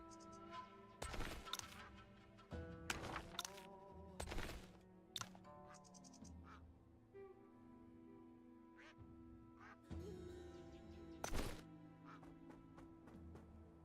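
A duck in the Wandering Sword video game lets out loud, harsh quacks in scattered bursts over a quiet game ambience, with gaps of softer sound between them.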